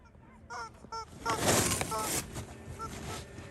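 A chicken called Satoshi gives a series of short, nasal honking clucks, close by and fairly loud, with a burst of broadband noise in the middle and some voice mixed in.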